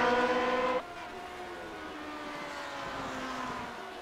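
Race car engines in the sim iRacing, Grand Prix Legends mod at Watkins Glen: a loud high engine whine that drops off sharply, then steadier droning revs from cars further off, with no talk.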